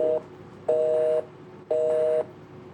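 Tones from a phone dialing the hotline number once listed on Justin Bieber's 2009 website: a short beep, then two longer electronic ringback-style tone bursts about half a second each, evenly spaced with quiet gaps between.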